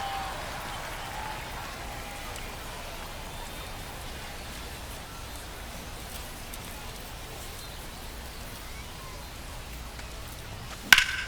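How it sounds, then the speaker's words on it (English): Steady rain hisses throughout a baseball game in MLB The Show 25, with broadband noise continuing evenly and a sharp crack near the end. "This rain is not letting up."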